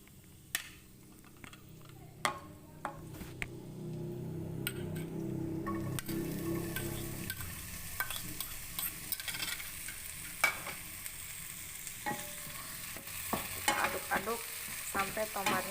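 Sliced tomato and garlic sizzle in a frying pan as a utensil stirs them, with steady frying hiss and repeated scraping clinks, louder after tomatoes go in.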